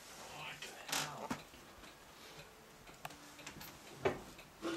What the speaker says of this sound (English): It's clocks.